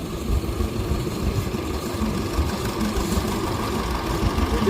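Steady low chugging idle of a 1950 International TE6 tractor rolling in a threshing bee parade, loud and continuous throughout with a rough mid-low rumble and no talking.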